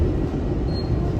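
Seoul subway train riding toward Ansan, a steady low rumble and rattle of the carriage heard from inside, continuous and fairly loud with no distinct events.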